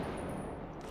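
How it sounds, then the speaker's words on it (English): Gunfire in Rainbow Six Siege from a weapon set to semi-automatic, one round per trigger pull, sounding as a loud, dense, continuous crackle of shots filling the moment with no talking. "this weapon has either semi-automatic fire, which is what the 1 bolt means. It means every time I pull the trigger, it'll fire 1 round."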